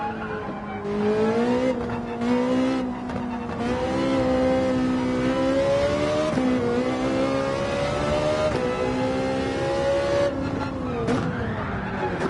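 A race car in Gran Turismo 7 roars through a track section and brakes hard, the engine droning and shifting pitch steadily for about twelve seconds, with faint tire squeal and no speech.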